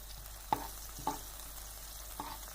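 Chopped green garlic cooks in a pan for vegetable macaroni, giving a faint, steady sizzle with a few sharp clinks as it is stirred.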